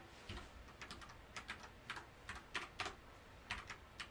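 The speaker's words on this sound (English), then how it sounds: "Got to be able to type though, right?" Quick, irregular clicking of keys on a computer keyboard during a command-line session, light close taps arriving in uneven bursts with no voice over them.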